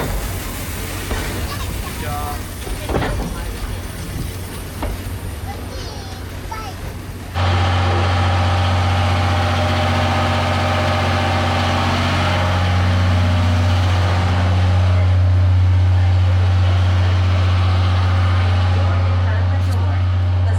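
A Seibu train departs the station, its deep, steady motor drone swelling suddenly and holding loud and close, with a faint murmur of voices around it.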